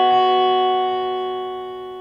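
An electric guitar note rings out clean and sustained after a slide down the G string, then slowly fades, alone with no talking.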